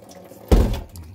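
Rinsed clams poured into a sieve in a home kitchen, a short splashing gush of water that lands with a dull thump and then trickles off briefly, close by and alone.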